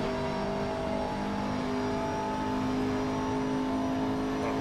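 Race car engine in Assetto Corsa, a Blancpain GT Series career race, droning steadily at high revs on the last lap with a faint shift midway, loud and continuous with no talk.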